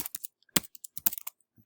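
Keystrokes on a computer keyboard, clicking in short irregular bursts with brief pauses between clusters, close and fairly quiet.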